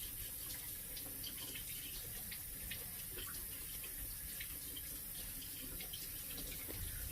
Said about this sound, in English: all I'm doing is just rinsing everything.